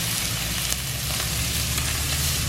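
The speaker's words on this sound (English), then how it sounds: "let's go with the steak on a barbecue" A steak sizzles steadily on a barbecue grill, a loud, dense, continuous hiss heard close up with no pauses.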